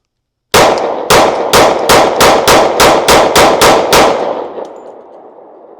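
Eleven sharp shots from an S&W M&P 10mm pistol firing .40 S&W ammunition, a quick even string of loud cracks with a ringing tail after the last one.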